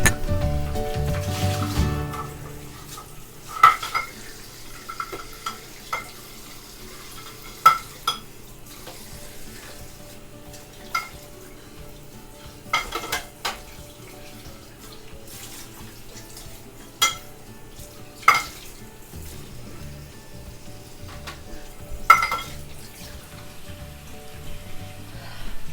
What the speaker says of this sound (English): I'm gonna wash out that pan and show it to you.